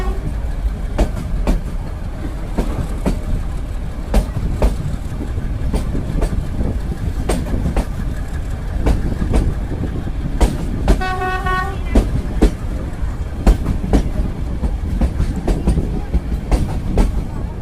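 A mountain train hauled by two engines climbs with a steady, rhythmic clatter of wheels on rail joints; partway through, a short horn blast sounds, then the clicking rolls on.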